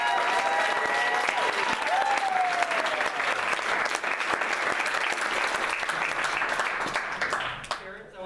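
An audience applauds students at a school event, with loud, steady clapping that continues for several seconds before tapering off, and voices heard faintly beneath.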